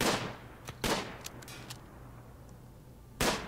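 Sparse gunfire in the Rimworld colony sim as colonists shoot at enemies: a few sharp isolated shots with quieter clicks and pops between them, spaced irregularly over a low background hum.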